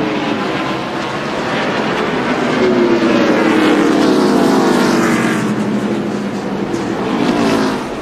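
NASCAR stock cars racing at the 2002 Virginia 500, a loud steady engine roar that swells and shifts pitch as the pack passes. The sound continues without a break and no voices come through.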